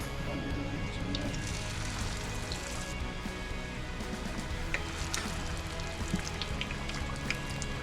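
Trout fillets sizzle in hot oil, a dense, steady crackle and spatter with small pops, close and constant throughout.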